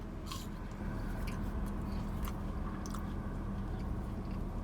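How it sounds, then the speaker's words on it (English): Crunching on Arby's crinkle-cut fries, soft close chewing and biting with a few crisp crunches over low steady background noise. "So they got that crinkle cut crunch."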